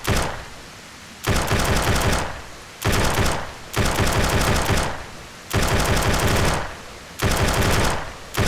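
Automatic gunfire from a zombie video game, loud and close, in five or six sustained bursts with short pauses between them and no voices.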